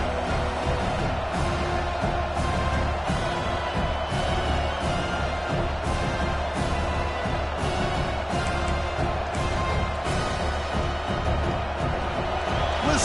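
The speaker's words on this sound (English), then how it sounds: "Listen to the crowd energy here in the early going" A dense stadium crowd roars steadily at a college football game early in the contest, a loud, continuous wash of cheering with periodic surges and no clear voices on top.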